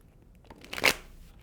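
Tarot cards of the Universal Golden Tarot deck riffle in a quick, soft papery shuffle close by, a single brief flurry that swells and fades with no talking.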